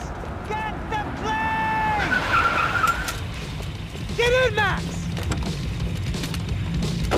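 A car drives and skids in the video game Max Payne 3, with tyre squeals and engine noise over a busy, noisy background and a loud skid screech midway.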